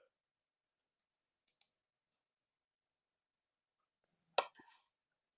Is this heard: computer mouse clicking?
yes